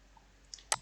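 A mouse clicking a button in an admin panel, one crisp close click after a faint softer tick, in a quiet room.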